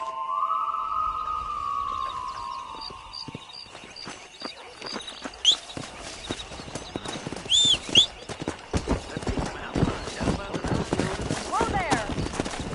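Horses ridden in Red Dead Redemption on PS5, hooves clip-clopping steadily and growing busier as the ride picks up, close and fairly loud, with a voice speaking over the start.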